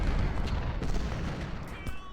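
Musket volleys and cannon fire in the Ultimate General: Civil War video game, a dense rumbling roll of distant gunfire and booms that continues steadily without pause.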